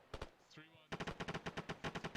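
Automatic weapons fire in a military simulation game, loud and close: a burst of rapid shots, a brief pause with a faint whine, then a steady, evenly spaced string of single reports, with no voices over it.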